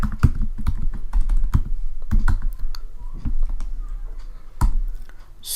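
Computer keyboard typing during file editing: rapid, uneven clicks and key taps, close and fairly loud, with brief pauses between bursts and no talking.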